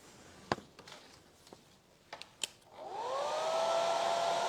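Several light taps and knocks come first, then a hair dryer switches on and runs with a steady rising whine, blowing on a freshly painted layer of a stencilled nativity set piece.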